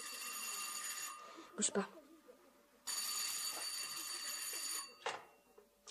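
A telephone bell rings loudly in two long bursts with a pause between them, while a voice speaks briefly during the gap.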